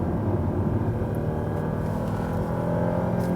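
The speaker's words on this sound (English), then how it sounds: "More feedback also from the engine." An Audi A8 engine drones steadily from inside the moving car, a smooth low hum with road and wind noise layered over it, holding an even level throughout.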